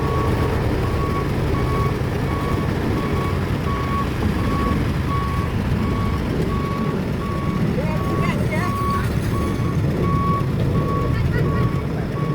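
A truck reverses during village road asphalt paving in Laos, its backup beeper pulsing evenly and steadily over a constant engine rumble, while someone talks throughout.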